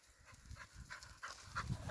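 A dog named Bella pants softly in quick rhythmic breaths while wandering outdoors on a walk, faint and close to the ground.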